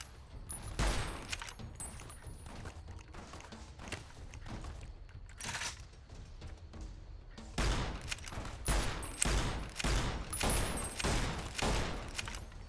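Gunfire from a western-style "yeehaw gun" in a video game comes as repeated sharp shots in uneven bursts, loud and close, with a short lull midway before a denser run of shots.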